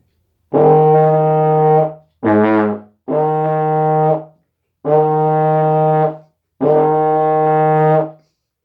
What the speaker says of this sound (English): Now the next to last note is an E flat.